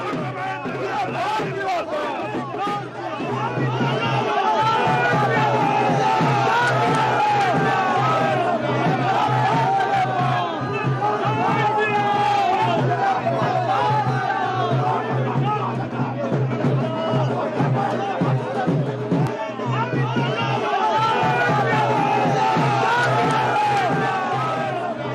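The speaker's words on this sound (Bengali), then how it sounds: "সেখানে রীতিমতো স্লোগান উঠল।" A large crowd at a Lok Sabha election campaign event in Bardhaman-Durgapur keeps up continuous loud chanting and shouting of slogans, a dense roar of many voices over a low steady hum.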